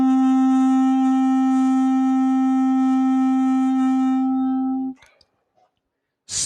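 Held D note on a clarinet, played solo as a single steady tone lasting roughly five seconds, then cut off, leaving near silence.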